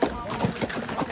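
A horse's hooves clip-clop on a hard surface in quick, uneven beats. The hoofbeats sound close and moderately loud, mixed with murmured voices in the background.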